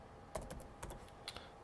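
Several quick clusters of keystrokes on a computer keyboard, tapped in short irregular bursts against a quiet room background, with no talking.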